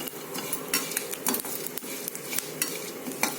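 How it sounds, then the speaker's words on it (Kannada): A utensil scrapes and stirs homemade sambar powder in a pan with a little oil, continuous close clinking and scraping over a faint sizzle, with no talking. "This has to be stirred continuously, otherwise it will burn very soon."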